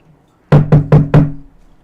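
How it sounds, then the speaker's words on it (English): Four firm knocks on a door in quick, even succession, close and fairly loud, followed by quiet. "babe, somebody's at the door."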